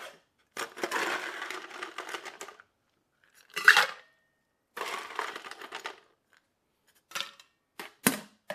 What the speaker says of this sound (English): Add a little ice.